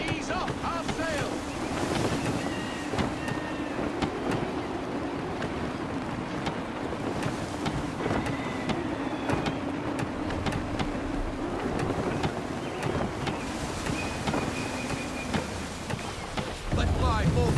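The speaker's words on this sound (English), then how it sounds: "Gusty winds can be difficult to manage." In Assassin's Creed III, gusty wind roars over the sea as a sailing ship moves under sail, with steady waves and rushing water throughout and faint game sounds now and then.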